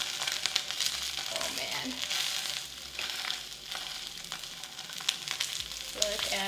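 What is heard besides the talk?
Kobe beef searing in a hot pan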